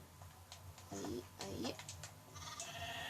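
In the video game Minecraft, sheep bleat faintly a few times against busy game sounds while a person talks over them.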